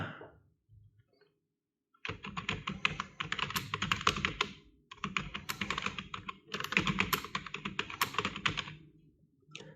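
Someone types a sample document in Word on a computer keyboard, with two bursts of rapid key clatter separated by brief pauses after a quiet start, close up and with no talking.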